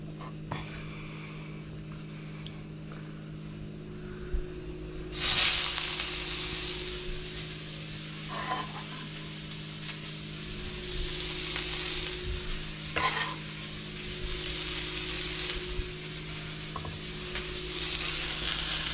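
Aromatics for shrimp and tofu pad thai fry in hot oil, a steady close sizzle that jumps louder partway through, with repeated scraping stirs and soft clatter throughout.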